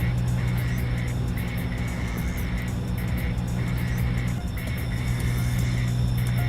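A Nissan S14 engine drones steadily in the racing video game TXR Zero, a loud continuous hum with a pulsing higher whine, heard alone with no talk.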